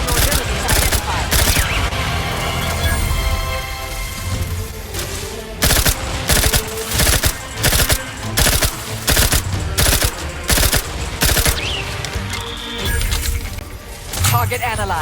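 Gunfire in The Outer Worlds 2 video game, loud rapid bursts of automatic fire broken by short pauses, with crashing impacts and a game voice speaking over the shooting.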